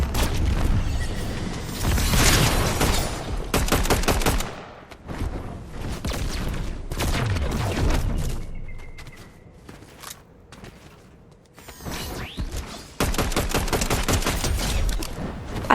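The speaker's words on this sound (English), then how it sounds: "But there's shooting all around me" Fortnite gunfire erupts all around in a match, rapid bursts of shots and booming impacts in loud clusters separated by quieter gaps, some near and some farther off.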